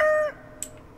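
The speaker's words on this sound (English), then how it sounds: "Rooster." A rooster crows in the video game Stardew Valley, a single short electronic crow fading out within a moment, followed by a faint brief chirp-like blip, with no talking.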